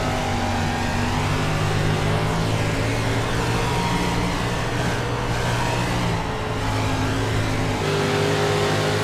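A 305 sprint car roars around a dirt track in an onboard view, its engine revving loud and steady with pitch rising and falling through the corners, no voices.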